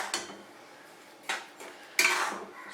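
Peanuts are stirred while roasting in hot salt in a pan, a gritty scraping rustle rising in three separate strokes against a steady background hiss, close and fairly loud with no talking.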